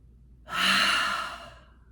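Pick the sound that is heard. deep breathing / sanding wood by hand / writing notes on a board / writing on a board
deep breathing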